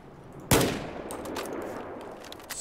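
Single loud, sharp crack of AK-12 rifle fire in Battlefield 4, followed by a decaying echo tail and faint scattered distant shots.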